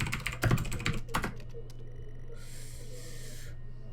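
Rapid keyboard typing in the horror adventure game Stories Untold, a burst of close clicky keystrokes early on that thins out, with a steady electrical hum beneath and a soft hiss rising later.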